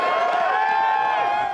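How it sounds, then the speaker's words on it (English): A dense crowd of fans cheers and whoops for Team Canada's hockey squad on their arrival, a sustained high-pitched roar of many voices holding steady and loud throughout. "For Team Canada, the cheering started when they got off the bus"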